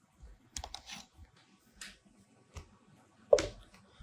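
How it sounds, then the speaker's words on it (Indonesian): Sparse keystrokes on a computer keyboard, a few scattered taps and clicks with one sharper, louder strike near the end, close and alone with no talk. "saya ketik dulu di sini"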